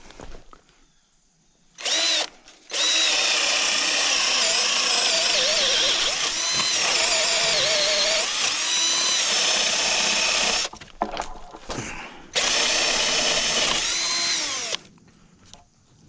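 A power drill bores into wet rough-cut lumber while a wall is laid out, whining loudly and steadily in long bursts with brief pauses and restarts between holes.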